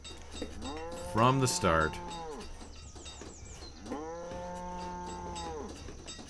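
Cattle in the city-building game Banished give two drawn-out moos a few seconds apart over soft ambient game sound, with brief light talk and clatter between them.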